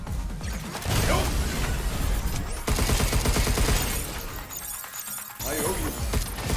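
Gunfire from the action game Pragmata as enemies are shot: dense, rapid bursts of shots with crashing and shattering impacts, loud and sustained, briefly pausing midway before resuming.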